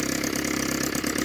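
A 1968 bass boat outboard engine idles steadily and loudly, a continuous even rumble with no pauses, recently tuned after a carburetor fix and smoking heavily.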